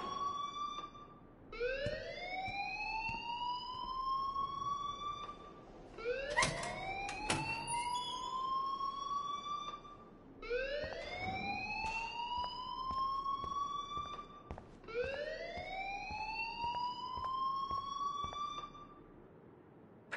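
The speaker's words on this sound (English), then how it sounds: "please turn off that alarm since that's your job" A school alarm wails in Life is Strange, four long rising siren sweeps repeating every few seconds, loud and continuous with a clatter of sharp noises between the second and third sweeps.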